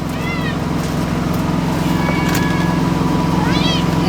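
Several cats meow for food indoors, short rising calls near the start, middle and end, over a steady low background hum.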